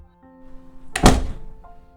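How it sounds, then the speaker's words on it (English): A front door bangs open with one heavy, close thunk, briefly loud against a faint, steady background hum before and after. "looked towards her front door that had been slammed open"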